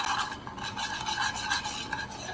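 Dijon mustard, brown sugar and sauce are stirred into melted butter in a bowl, a continuous rhythmic scraping and swishing of utensil against the dish, close and fairly loud, with no talking.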